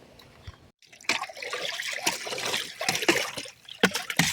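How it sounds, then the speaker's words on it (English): A plastic stick stirs a liquid fertilizer mixture in a container outdoors, giving close, uneven sloshing and swishing of water with brief gurgles, loud and irregular after a short pause. "stir this liquid mixture."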